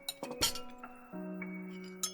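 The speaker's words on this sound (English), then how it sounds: "I could hear the clatter of glass and squeaky floorboards." Glass clinks and clatters sharply at the start, followed by sustained tonal creaks like squeaky floorboards in a game scene, with no voices.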